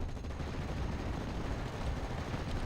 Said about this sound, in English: Aiming machine guns like crazy